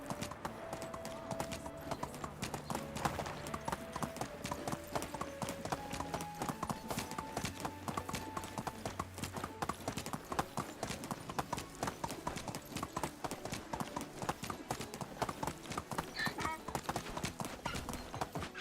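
Donkey hooves clip-clopping steadily in Medieval Dynasty, a continuous rhythm of hoof falls over farm ambience, with brief braying-like calls at moderate loudness.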